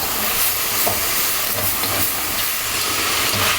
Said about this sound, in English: We actually want to fry the rice.